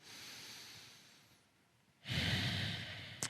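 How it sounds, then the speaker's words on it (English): A man exhales heavily while holding a standing yoga lunge: a soft, fading breath, a brief lull, then a louder, rushing out-breath close to the mic. "One more breath."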